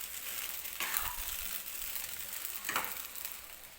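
A spatula stirs sabudana khichdi mixed with peanut powder in a frying pan, giving soft sizzling with a couple of brief scraping strokes. The sound is fairly faint and there is no talk.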